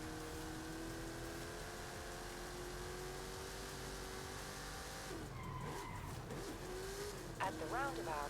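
Racing game car engine in Forza Horizon 5 hums steadily with sustained tonal drone, then tires skid and squeal in short bursts near the end as the car drifts, under a game's spoken navigation prompts.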